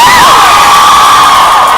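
A convention panel audience cheers and whoops loudly, a dense crowd roar with high excited shouts that stays at full volume throughout.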